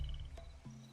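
A toad croaks in a video game, two short low throaty croaks about half a second apart over a faint steady background tone, close and alone.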